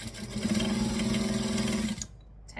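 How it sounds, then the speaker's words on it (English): A sewing machine stitching along fabric and back stitching at the end, a steady nearby motor whir for about two seconds that stops abruptly, followed by a brief quiet and a small clunk. "Stitch along and back stitch when you get to the end."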